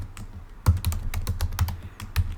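Fast typing on a computer keyboard, close and clear: a rapid, uneven run of clacking keystrokes with a few heavier thumps, as from the space bar.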